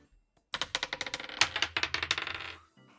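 Dice rolled during a Pokémon tabletop role-playing session clatter in a quick run of sharp clicks and ticks for about two seconds, loud and close, then settle into quiet.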